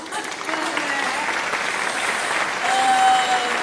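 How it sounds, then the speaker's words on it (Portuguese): Steady applause from a crowd, a dense wash of clapping that swells slightly toward the end, with a voice faintly audible underneath. "Eu queria ter uma plateia de aplausos."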